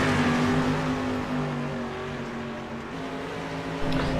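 Dirt-track street stock race cars at Volusia drone with a steady, loud engine roar and sustained revving pitch, several cars running together near the microphone with no talk.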